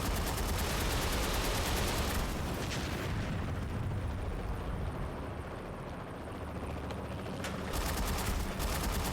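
Sustained gunfire aimed at a durable dropship in the video game Haze, a continuous loud roar of shooting mixed with heavy engine rumble that barely lets up.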